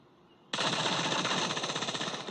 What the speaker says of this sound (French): Je vais mettre l'arme qui tire en rafale là.